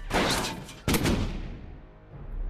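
Gunfire in Iron Grip: Marauders comes as two heavy bursts of shots, sharp and fairly loud, the second ending in a rumbling tail that fades to quiet.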